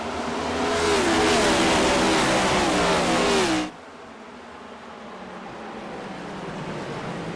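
Race cars at the Richmond 200 roar loudly as the field accelerates through turn 4 after the pace car peels off, a dense engine wall rising in pitch before cutting abruptly to a quieter, distant drone.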